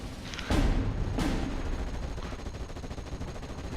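Gunfire from the Steel Division 44 video game breaks out in two sharp, close bursts of shots, then trails off into a low rumbling battlefield background.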